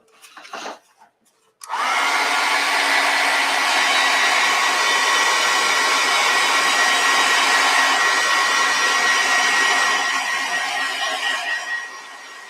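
A hair dryer drying a piece of artwork starts abruptly after a couple of seconds of quiet fumbling, then blows as a loud, steady, close roar for about ten seconds before easing slightly at the end.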